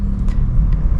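Manual car engine revving as the accelerator is pressed, a steady, close, low rumble that holds without a break over a brief moment, with no speech.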